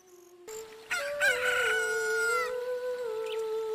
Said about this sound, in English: Look, a chicken hatched from the egg you were incubating.